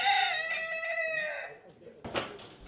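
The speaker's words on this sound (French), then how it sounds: "Cette journée est marquée par le concours de chant du coq." Rooster crowing at a crowing contest, one long loud cock-a-doodle-doo close by, followed by a brief burst of crowd noise or clucking.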